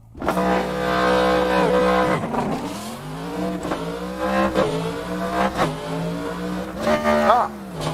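A race car in Assetto Corsa revs hard with a harmonic engine whine that rises and dips through shifts, including a missed shift that blows a gear, loud and continuous with some tire noise under faint talk.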